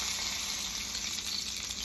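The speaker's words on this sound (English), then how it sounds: "so I'm just going to render some of that fat, burn it, singe it in the pan" Steak fat renders and sizzles in a hot pan, a loud continuous crackling hiss that stays close and steady throughout, with no voices over it.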